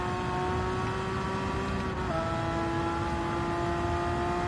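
Racing video game car engine bouncing off the rev limiter, a loud, steady high-pitched drone that wavers slightly midway, with no voices.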